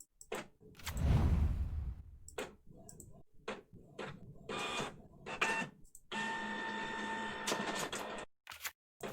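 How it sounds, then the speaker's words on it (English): A printer starts up and runs a print job close by: a burst of whirring at first, scattered clicks and mechanical ticks, then a steady buzzing feed with tonal whine that stops near the end. "someone started up the printer"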